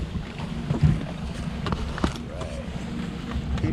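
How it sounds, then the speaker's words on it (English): A Zodiac inflatable boat rides along the Palouse River, with a faint steady motor and water wash mixed with wind noise on the microphone. "Going on a Zodiac ride now"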